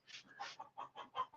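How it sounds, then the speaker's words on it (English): Several chickens cluck in a quick, uneven run of short calls, faint and somewhat distant, with no other sound competing. "I don't know what's going on with these chickens."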